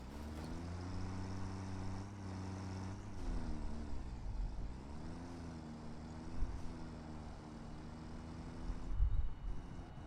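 Steady droning engine of a tractor in the factory-building game Satisfactory, a continuous mid-level hum with shifting pitch that dips and rises midway, no voices over it.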